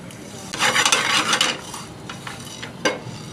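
Cumin seeds and black peppercorns dry roasting in a pan over low flame, with close scraping and stirring swishes and light rattling of the spices against the metal, in several short bursts.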